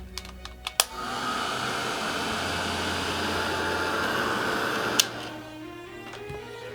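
A hair dryer blasts steadily for about four seconds to dry paint on an art piece, a loud, close, broadband whoosh that starts and stops abruptly, with small clicks and taps before and after.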